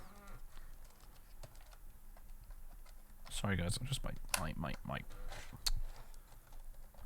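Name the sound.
computer keyboard being handled and typed on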